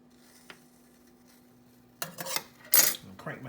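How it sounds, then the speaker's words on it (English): A spoon or ladle scrapes and clinks against a pot while moving a poaching egg, in a few short close bursts after near silence. "like to gently kind of use my spoon and or ladle to help that egg move around"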